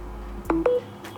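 Homemade smart extension board beeping as it is switched on, two short electronic tones in quick succession, close and clear over a low steady hum.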